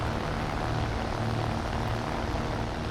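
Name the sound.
propeller monoplane engine in a video game dogfight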